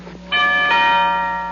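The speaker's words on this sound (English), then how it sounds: "The bell would ring, and that would be the entrance cue for whoever it was" A bell rings once and sustains with a bright, ringing decay, sounding as the entrance cue in the Fibber McGee & Molly old-time radio show, heard alone and close without talk.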